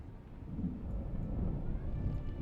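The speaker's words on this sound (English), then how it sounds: "Is there a storm rolling through right now?" A storm rolls through the desert in Dune: Awakening, making a low, steady rumble like thunder and wind that swells slightly and stays moderately loud with no voices over it.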